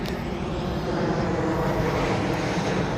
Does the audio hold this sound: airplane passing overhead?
yes